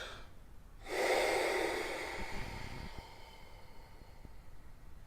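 A single deep, forceful breath drawn in through the tube of a lung function test, a loud rushing inhale lasting about a second that fades into quiet breathing sounds.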